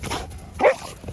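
A neighborhood dog gives one short, close bark, with a softer yelp or whine just before it and outdoor background around it.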